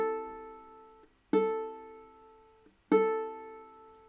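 Three separate plucks of a ukulele's A string ring out one after another, each tone sustaining and fading alone, played slowly on a beginner ukulele for tuning.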